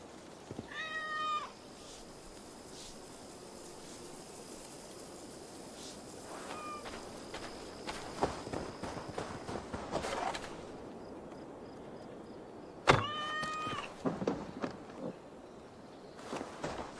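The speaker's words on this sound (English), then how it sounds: "I never thought the meow of cats could soothe my soul." Cats meow in the video game Assassin's Creed Valhalla, with two clear drawn-out meows near the start and a sharper one later, over faint footsteps and quiet ambience, and a few softer calls between them.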